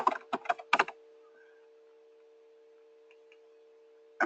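A note being typed on a computer keyboard: a quick burst of several close key taps at the start, a long quiet stretch with a steady electrical hum, then a final keystroke at the end.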